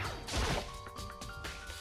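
A glass bottle smashes in the video game Danganronpa: Trigger Happy Havoc, giving a sharp crash followed by scattered tinkling debris and a faint ringing tail, fairly quiet and heard alone.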